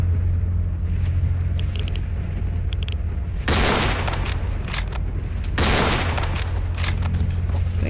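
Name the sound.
gunshots in the video game S.T.A.L.K.E.R. Anomaly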